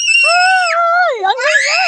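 A loud, high-pitched wail from a crying, screaming child, held and sliding in pitch before breaking into a shaky renewed cry, close and unaccompanied by other sounds.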